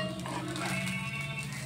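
A spatula stirs and tosses egg fried rice in a hot frying pan, giving a soft continuous sizzle with light scraping and shuffling, close and steady with no talking.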